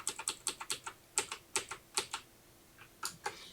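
Keys clacking on a computer keyboard as code is typed, a quick run of crisp, close taps in short bursts with a brief pause, alone without talk.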